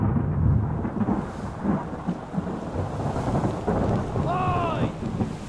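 Deep rolling thunder from an approaching storm in Return of the Obra Dinn rumbles continuously over steady rain, with a brief sharp creak near the end.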